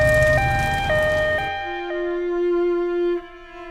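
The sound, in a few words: fire engine siren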